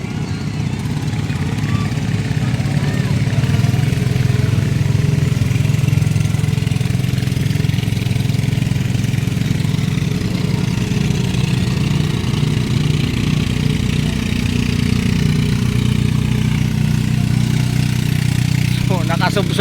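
Two pump boats motor along the river at Wawa Dam in Montalban, Rizal, their engines a steady, loud, low drone that holds throughout, with a faint rising whine near the end.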